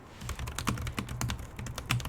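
Close, brisk keystrokes on a mechanical keyboard, a rapid irregular run of sharp clicky taps with no voice.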